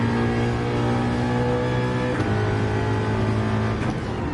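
A V8 race car in Gran Turismo 7 drones steadily at high revs, its engine tone shifting pitch once midway with a brief gear change, loud and continuous with no talk.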